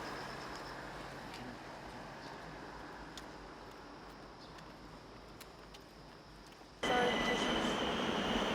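Subway train at a Korean metro station: a low, steady rumble and hum of rolling rail cars with faint squeals, swelling abruptly louder near the end as the train draws close.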